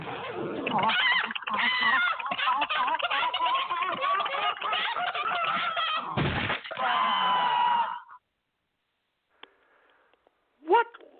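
A chicken squawks and clucks loudly and almost nonstop for about eight seconds, harsh and agitated, then cuts off, leaving near silence broken by a couple of faint, brief sounds.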